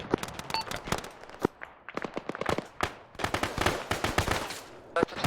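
Dense Arma 3 battle with a tank firing and automatic gunfire: rapid sharp bursts and cracks one after another, loud and close, some shots fainter and farther off, with little pause across the whole stretch.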